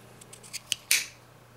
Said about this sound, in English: I think you can hear from the way it clicks, you know, how tight the opening is